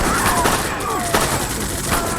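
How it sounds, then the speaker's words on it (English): Rapid bursts of machine gun fire and scattered rifle shots crackle through a Great War Age strategy game battle, steady and dense over a continuous din. "They really do a lot of damage with those machine guns."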